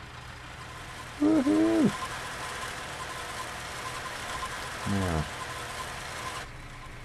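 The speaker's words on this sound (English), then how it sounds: "Let's start the tractor and call her a day" A tractor engine idles steadily in the farming game Cattle and Crops, a continuous low rumble running underneath, with a voice whooping and speaking briefly over it.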